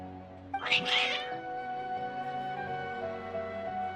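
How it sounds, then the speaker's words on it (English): Agitated cats meow and caterwaul in the Genshin Impact game, a loud strained yowl early on followed by quieter drawn-out meowing over a soft background tone. "Your cats seem pretty worked up."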